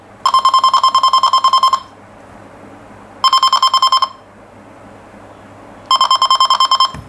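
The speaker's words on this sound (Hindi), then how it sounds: "जो ही केबल इसके पास आती है उससे ये जो है बीप देनी शुरू कर देता है" A ToolTop ET628 network cable tester held near an RJ45 cable gives three loud bursts of rapid, rhythmic beeping separated by short quiet gaps, with no talking.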